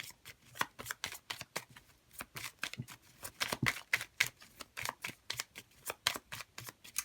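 Tarot cards being shuffled by hand in a reading, a steady run of crisp riffling flicks and slaps repeating roughly every half second for several seconds, close and fairly quiet with no talking.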